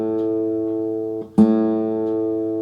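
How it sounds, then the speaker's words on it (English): An open A string rings on an acoustic guitar, a sustained close tone that dips briefly and then swells again as the sound hole is covered and uncovered. "If I play the open A, you can see I'm running easily in the 7 to 10 cents flat range"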